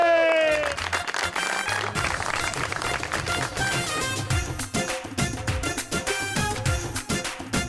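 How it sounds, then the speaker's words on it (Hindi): Studio audience applause greets a guest on a Pakistani TV talk show, a dense patter of clapping mixed with loud music throughout. "आपकी भरपूर तालियों में सबीना खावर हयात।"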